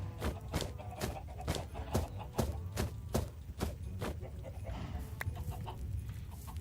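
Chickens clucking in the Minecraft video game, a series of short, evenly spaced calls repeating over steady background game sounds, with no talking.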